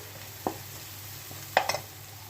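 Turmeric powder is stirred and fried in a pan for a ridge gourd curry, with a faint steady sizzle and a couple of brief scraping clinks from a spoon against the pan.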